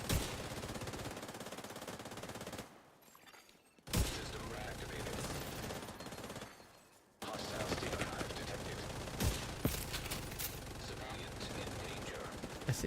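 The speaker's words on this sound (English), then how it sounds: "Hear everyone's gun going burr." Dense, continuous automatic gunfire from several players' weapons in the video game The Division 2, in open-world Washington, D.C. The bursts are loud and sustained, with two brief lulls, and talk runs over them.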